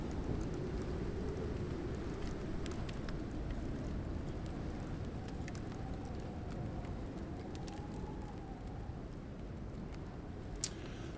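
Heavy rainstorm in the survival game Icarus, a steady dense hiss of rain with a low rumble beneath and a few scattered sharper drops, continuous and with no talk.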